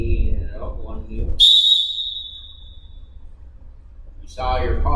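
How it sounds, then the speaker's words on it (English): A referee's whistle gives one sharp, shrill blast during a wrestling mat clinic, loud and close, ringing briefly between stretches of someone talking. "Just blow the whistle. Blow it sharp so people hear it."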